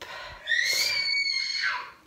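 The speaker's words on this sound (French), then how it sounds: "C'est les enfants qui crient" Children shrieking and screaming at a Halloween party as one boy scares his brother, a high sustained squeal rising and holding, then a second falling cry, fairly close.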